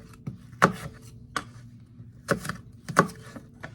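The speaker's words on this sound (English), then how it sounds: "Chop with as much apple as you like." Knife chopping a Honeycrisp apple on a cutting board, several crisp, close thuds in an uneven rhythm with brief pauses between cuts, no talking.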